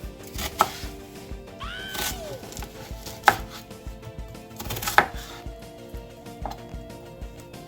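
Knife chopping food on a cutting board while making turkey stew, with sharp, irregular chops standing out over low kitchen clatter and background hum.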